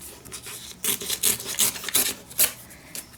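Paper scrap torn off by hand, a series of quick rasping rips in short bursts, fairly close and moderately loud with no talking.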